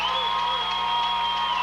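A crowd cheers steadily in a high school gym during a 1995–96 regional basketball game between PHS and Allen Central, a dense, sustained roar with whoops and a faint tonal ring running throughout.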